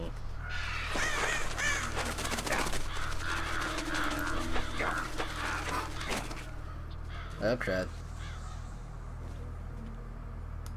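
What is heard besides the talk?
birds cawing in video game Metal Gear Solid: Twin Snakes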